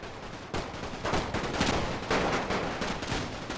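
Massed rifle fire from soldiers at target practice in a Total War game set in the Great War, a run of sharp overlapping volleys crackling at an uneven rhythm, close and loud.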